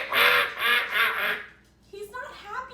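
A person's voice imitates a duck, giving three nasal, buzzy quacks in a steady rhythm before breaking into casual talk.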